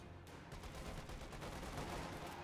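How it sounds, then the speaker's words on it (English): Dense, continuous rattle of .50 cal machine gun fire in the Company of Heroes 2 real-time strategy game, steady and sustained across the battle with no pauses, heard fairly faint and distant. "The 50 cal machine gun is just stopping the infantry as they come forward"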